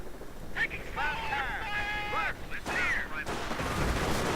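Panzer Grenadiers open fire on charging Rangers in the World War II strategy game Company of Heroes: sharp gunfire bursts crackle through the battle, mixed with tonal unit calls and steady background din.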